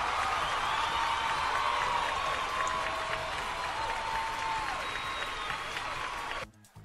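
Crowd applause in the fishing game Fishing Planet, greeting a catch on the Akhtuba river, a steady wash of clapping lasting several seconds before cutting off.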